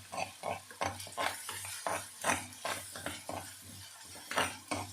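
Crushed onion, chili, ginger and garlic sautéing in a pan for prawn thokku, rhythmic scraping and clanking strokes of a spoon against the pan over a faint sizzle, close and fairly quiet, no talking.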